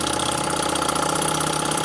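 A Boucher S62 model steam engine running on about 30 psi, a steady, fast, even mechanical chugging and hum at close range, continuous throughout with no voices.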